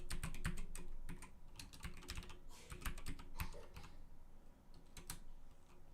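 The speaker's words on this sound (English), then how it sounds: "I'll type that in here." Rapid clicking keystrokes on a computer keyboard come in irregular bursts with short pauses, close and fairly quiet, with no voices.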